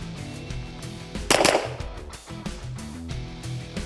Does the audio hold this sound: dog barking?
no